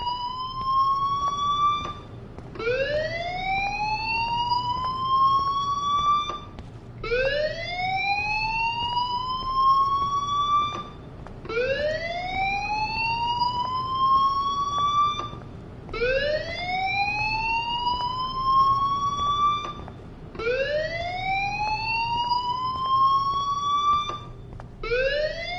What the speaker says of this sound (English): that fire alarm? That means you should be outside.